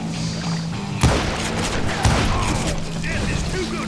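Gunfire in the Western shooter Call of Juarez Gunslinger: two sharp loud shots about a second apart over a busy background of game noise and ringing, with faint voices underneath.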